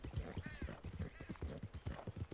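Rhythmic thudding hoofbeats of a horse jumping and moving over steep ground near a meteor crater in Red Dead Redemption, steady and fairly close, with faint background sound.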